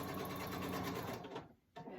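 Opal sewing machine running at a steady whir with a fast rhythmic stitching pulse, close and loud, cutting out briefly near the end before resuming.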